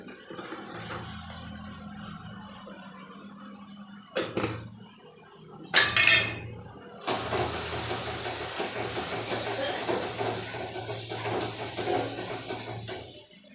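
Mutton masala and gravy sizzling in a pan for a mutton thali, with a steady hiss of frying that bursts louder as liquid hits the hot pan, continuing close and constant.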